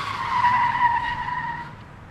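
A car brakes hard and its tires skid in a sustained high screech that fades out over about two seconds, loud and isolated like a sound effect.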